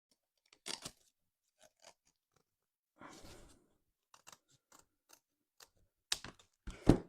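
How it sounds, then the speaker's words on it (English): Scissors snip through paper to cut small triangles for an autumn craft, giving sparse, quiet, isolated clicks and short crunchy cuts with long silences between, ending in a couple of sharper, louder snips. "I'm going to cut two little triangles out at the bottom"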